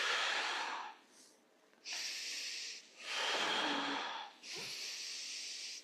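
Forceful breaths exhaled during a core workout, four loud airy gusts of about a second each with short gaps, close to the mic and alone.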